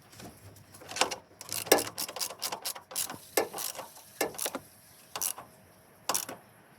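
A ratchet tightens the strut mount bolts on a Nissan Note in quick, uneven bursts of clicking, close and crisp, with short pauses between strokes.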